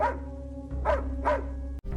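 The dog Airan from the film Mamnik barking, three close, clear barks spaced evenly over a steady low background hum.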